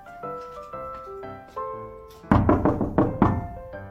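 Knuckles rap on a thin partition wall in a shop space being checked for construction. First come several soft, hollow knocks. Then a louder burst of five or six resonant thunks follows in quick succession, close and dry with no talking.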